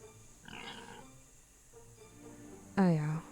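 Pigs grunt in the fantasy role-playing game Beyond Divinity, with a faint grunt early on and a loud, close oink-like squeal near the end, mixed with quiet game ambience.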